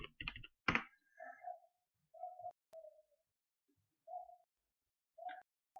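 Keys clatter on a computer keyboard as a class name is typed in a Spring Boot project, a quick close burst of clicks at the start followed by a few soft, scattered taps and short tonal blips, with no voices.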